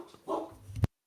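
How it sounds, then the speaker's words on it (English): A dog lets out a couple of close barks, a short yelp followed by a louder bark before the sound cuts off abruptly. "My dog's barking."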